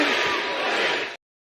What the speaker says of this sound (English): Rebellion goes off the air to the sound of the crowd shouting, "Delete! Delete! Delete!